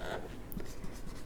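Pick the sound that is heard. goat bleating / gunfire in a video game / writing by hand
writing by hand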